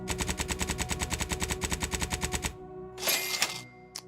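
Heavy machine gun fire in The Outer Worlds 2, a loud, fast, evenly spaced burst of about two and a half seconds, followed by a short crashing impact and a final sharp hit.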